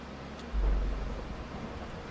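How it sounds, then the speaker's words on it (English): A lightning strike in Minecraft lands as a sudden deep thunder boom rolling out for over a second, loud and low, then fading into rumbling noise with no voices. "did I just get struck by lightning?"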